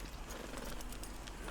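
Horse hooves clip-clopping in the Red Dead Redemption 2 video game, a continuous run of hoofbeats under a steady layer of ambient game noise.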